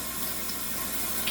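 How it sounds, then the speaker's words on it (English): Kava is kneaded around in water with a spoon, producing a steady close sloshing and running-water wash that continues without a break. "Take a spoon, kind of knead it around in the water"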